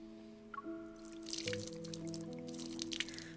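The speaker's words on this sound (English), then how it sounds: "Cool water continuously seeps into the soil and reaches my roots." Cool water seeps into soil in the video game Love and Deepspace, heard as soft, quiet drips and trickles beneath gentle sustained musical tones.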